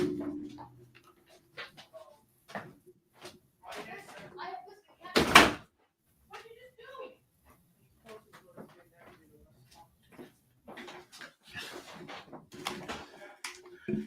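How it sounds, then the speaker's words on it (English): A door is shut with a single sharp thud partway through, amid an ongoing conversation between speakers in an indoor news discussion. "Let me close this door."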